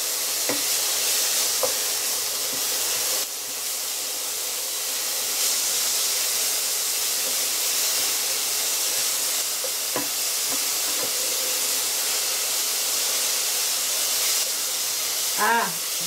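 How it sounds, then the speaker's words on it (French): Onion gently browning in a pan, giving a steady, soft hiss and sizzle with occasional light clinks from stirring, close and continuous, with no talking. "pendant que mon oignon cuit doucement"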